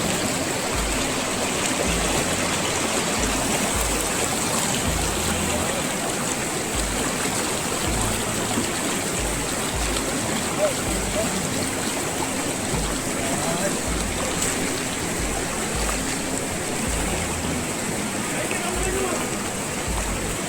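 A swollen river near Dehradun, crossed on foot by villagers, rushes in a steady, loud broadband roar of churning water, with a low voice-like rumble pulsing beneath it throughout.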